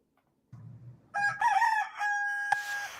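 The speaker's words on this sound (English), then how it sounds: "New York City tenant is tormenting neighbors with flock of rowdy roosters, pesky parrots, and other boisterous birds" Roosters kept by a New York City tenant crowing loudly and close by, one long wavering cock-a-doodle-doo preceded by low clucking, with a brief knock partway through and no talking.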